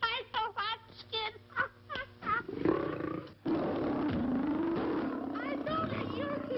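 A man disguised in a lion's skin lets out a deep, rasping roar that starts after a stretch of talking and then holds steady and loud for several seconds.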